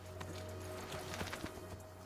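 Horse hooves clip-clopping at a gallop in the video game Assassin's Creed II, a quick uneven run of soft thuds over a low steady hum, fairly faint.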